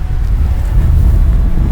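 Strong wind gusts across a Montana mountain trail on an elk hunt, a loud, steady roaring buffet pressing on the microphone throughout, with no talk.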